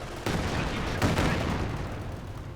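Machine-gun and mortar fire in the real-time strategy game Company of Heroes 2, with a dense sustained rattle of gunfire and a heavier burst near the middle, fairly loud and continuous with no talk.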